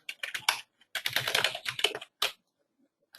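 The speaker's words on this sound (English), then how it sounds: "So I just typed in GLAR MLS Realtors." Rapid typing on a computer keyboard, close and crisp, in quick clattering bursts of keystrokes with short pauses between, then a last stray key tap.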